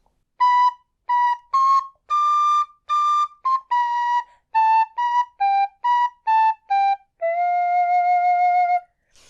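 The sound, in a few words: tin whistle playing B flat with half hole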